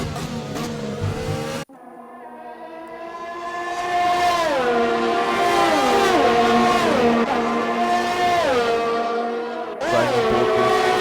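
GP3 race cars at the Canadian Grand Prix, heard on board as a loud engine whines and climbs through repeated gear changes, with a brief drop near the start and a shift near the end.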